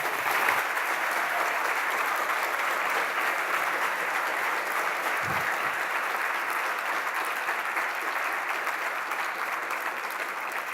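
An audience at a French student session on politics in Aix applauds after a talk, dense sustained clapping from a full room holding steady for the whole stretch.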